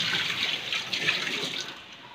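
An LG twin-tub washing machine with a draining fault lets water run out in a steady rushing, splashing flow that tapers off slightly toward the end.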